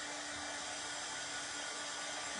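A hair dryer blows steadily on a freshly decoupaged craft piece, a constant close whooshing drone with a faint tonal hum running through the whole stretch, with no talking.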